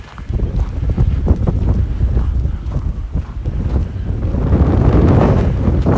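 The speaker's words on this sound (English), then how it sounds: "The wind's right behind me, giving me a push" Strong gusty wind roars and buffets the microphone of a walker outdoors in Regina after a snowstorm, loud and continuous and swelling toward the end.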